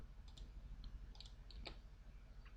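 Light clicking keystrokes on a computer keyboard as a command is entered, a sparse run of quick taps at close range over a low background hum.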